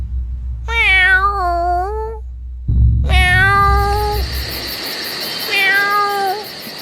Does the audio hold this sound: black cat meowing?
yes